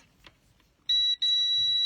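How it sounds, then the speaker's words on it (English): A voltmeter in its continuity setting sends out a high, pure electronic beep that sounds briefly, drops out for a moment, then holds steadily, close and clear after a few faint clicks from handling the probes. "there is a setting that is essentially just an alarm setting. Some might call it a beeper setting."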